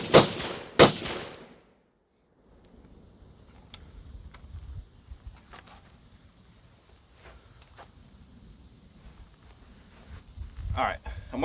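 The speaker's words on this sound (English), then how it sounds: "I'm waiting a couple seconds between shots, hopefully, so the mic can reacclimate" Two sharp, loud rifle shots ring out close together from a SIG MCX Spear fitted with a HUXWRX muzzle device. Low outdoor rumble and faint voices follow.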